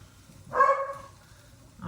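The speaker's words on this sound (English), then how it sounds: "Oh my gosh, dogs." A dog gives a single short, sharp bark, close and fairly loud, in an otherwise quiet indoor room.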